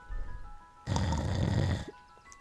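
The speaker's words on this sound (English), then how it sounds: "Mr. Mr. Sinclair continued snoring" Mr. Sinclair, a character in the video game Beacon Pines, snoring: one long, rumbling snore breath that swells in, holds, then cuts off, over a soft musical background.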